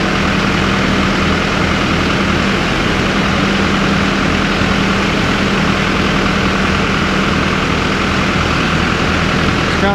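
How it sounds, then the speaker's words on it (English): A loader's engine at high idle gives a loud, steady, low diesel drone with a constant mechanical hum, close by and unbroken for the whole stretch, with no voices. "It seems like I got it pretty high idle here"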